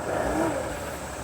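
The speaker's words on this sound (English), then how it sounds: "So as you can hear, the engine is running." Winnebago Sprinter RV engine with a power-loss fault and warning lights on, running steadily at a close, moderate level with a low hum and a faint high whine, no voices.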